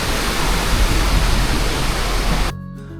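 River and mountain streams on the route from Lachung to Zero Point make a loud, continuous rush of water that cuts off abruptly near the end, leaving faint quiet sound.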